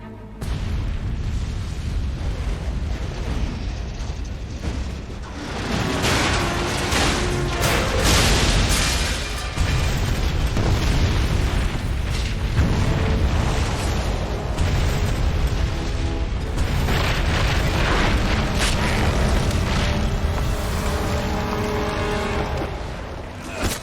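Gunpowder barrels blowing up in Fable 3, heavy rumbling booms and blasts rolling on continuously and loudly amid dense action sound for the whole stretch.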